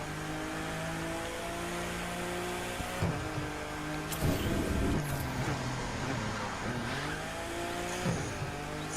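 A car driven in The Crew 2 video game drones with engine hum and shifting pitch, broken by bursts of tire squeal and skidding, steady and fairly loud with no talking.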